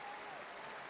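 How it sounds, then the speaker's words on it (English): Applause from a crowd of 43,000 at a Kerry v Cork Munster Final Gaelic football match, a dense steady wash of clapping that holds evenly for under a second with no pause. "When you see class, you have to give a bit of applause"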